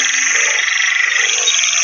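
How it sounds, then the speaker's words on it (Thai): A dense chorus of frogs croaks continuously inside a cave, a loud, close, pulsing trill that fills the space without pause and with no one speaking. "กบอยู่เนื้อถ้ำนะ"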